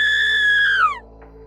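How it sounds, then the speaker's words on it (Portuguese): A single shrill, sustained scream rings out loud and close, holding a high pitch before sliding downward and cutting off, followed by quiet. "Collier foi acordado por um grito estridente vindo do quarto de seus pais."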